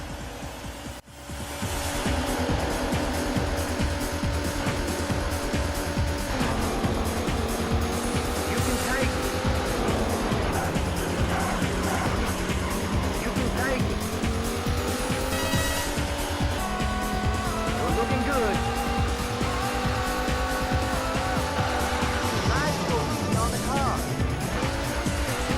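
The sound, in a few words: race car engines from video game Daytona USA on Sega Saturn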